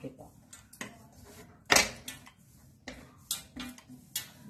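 Shankarpali dough being rolled out with a rolling pin, with no oil or flour on it: a string of sharp, uneven clicks and light knocks of the pin against the board, close by, with quieter scraping between them.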